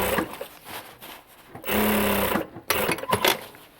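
Sewing machine stitching a Gore-Tex hiking jacket sleeve, running in a few steady bursts of rapid mechanical whirring with short pauses and handling noise between them, close and fairly loud.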